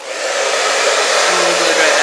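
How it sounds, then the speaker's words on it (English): A blow dryer on low heat drying a synthetic wig runs as a steady, loud, close airy whoosh, rising at the start and then holding even for about two seconds, with no talking. "And then with my blow dryer on low heat, do not use high heat."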